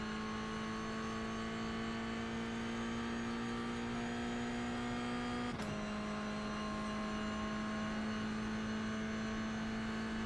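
A Porsche race car engine in the iRacing video game drones at a steady high pitch, briefly dipping in tone mid-clip as if shifting gear, then holding on; fairly quiet, no talk.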